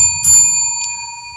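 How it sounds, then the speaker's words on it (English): A bell rings once, struck sharply with a second lighter tap, its steady tones hanging on in a long reverberant decay that fills the room. "Ooh, there's an elongated ring."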